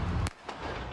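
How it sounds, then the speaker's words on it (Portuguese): A police officer fires a single gunshot at a car: one sharp, loud crack with a fainter echo-like report just after, over a steady rumble of street noise. "O carro avança e pode-se ouvir um tiro."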